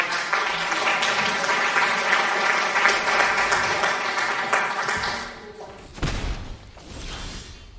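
Crowd applause rolls steadily for about five seconds, broad and continuous, then breaks off into a few thumps and a softer, thinner patter of clapping at the end.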